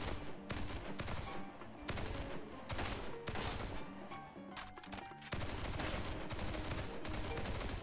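Near-continuous gunfire from the action video game Duet Night Abyss, rapid shots in dense loud volleys with brief pauses, no talking heard.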